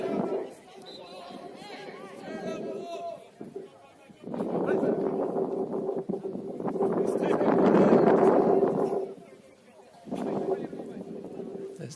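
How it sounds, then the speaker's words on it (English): Wind buffets an outdoor microphone at Taradale Park in Taradale, heavy rumbling gusts surging and fading in waves while a commentator's voice keeps talking underneath. "As the wind buffets through here at the appropriately named Taradale Park in Taradale"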